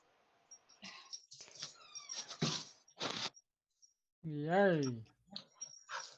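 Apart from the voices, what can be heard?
dogs whimpering and yipping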